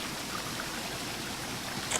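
Water pouring into a steam locomotive's tank in Train Simulator 2017, a steady broadband rushing hiss that runs evenly throughout with no voices.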